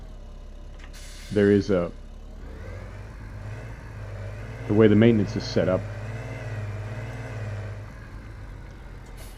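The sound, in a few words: tractor engine running in video game Farming Simulator 2017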